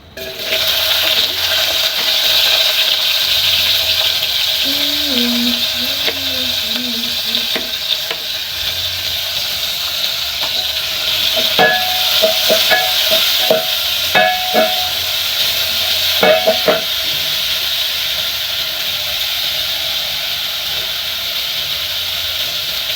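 Onions fry in a pan while a utensil stirs them, a continuous sizzle with scattered scraping and clinking strokes over about twenty seconds, no voices.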